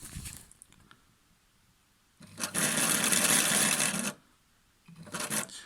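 A Phoenix 82 sewing machine stitching in zigzag mode, a steady loud mechanical whir lasting about two seconds, framed by quieter handling rustles before and a short burst of running again at the end.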